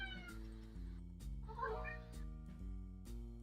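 A cat gives a single bright, rising meow over a steady low electronic hum and faint background clicks, fairly soft and close.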